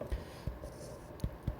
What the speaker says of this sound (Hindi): चलो ऊपर लिख देता हूँ